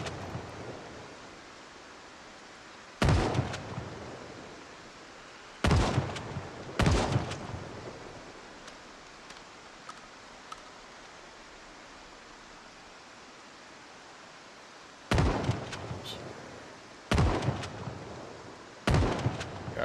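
Shotgun blasts from the video game Project Zomboid boom out in spaced bursts, first one, then a quick pair, later three more, each a loud sharp crack with a short decaying tail over a low hiss.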